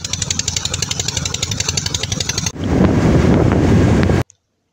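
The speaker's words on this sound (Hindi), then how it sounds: "हमारी होंडा 70 बाइक है।" A Honda 70 motorcycle on the road from Faisalabad to Lahore, its steady engine drone and heavy wind buffeting loud and close, roaring for several seconds before cutting abruptly to silence.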